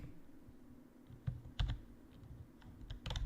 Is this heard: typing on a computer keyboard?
yes